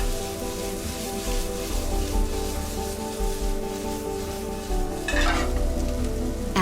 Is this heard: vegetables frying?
yes